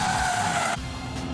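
A Lexus GS 450h flicked sideways into a big drift, its tyres scrubbing in a loud, continuous skid that cuts off abruptly partway through and leaves a duller engine-and-road rumble.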